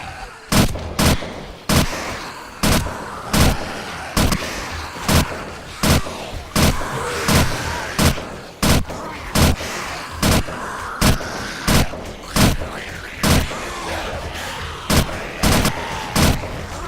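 Rapid gunfire bursts and explosions from the zombie survival game 7 Days to Die, a dense run of sharp, loud reports spaced every half second or so across the whole stretch, with a faint voice barely present underneath.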